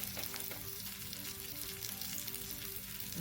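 Rawa-coated silver biddy fish frying Malvani/Mangalore style in an oiled pan, a steady loud sizzle and crackle throughout with no voices.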